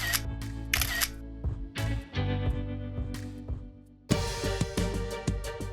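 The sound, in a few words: camera shutter taking a selfie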